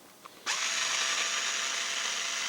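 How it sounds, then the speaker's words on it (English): An electric screwdriver whirs to life after a small click, then runs at a steady high-pitched motor whine, close and continuous, no voices. "You take your electric screwdriver out with you."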